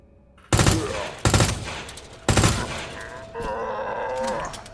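Three loud, sharp gunshots from a handgun in the video game Resident Evil 2 Remake ring out about a second apart, each trailing a short echo, followed by a softer sustained in-game sound.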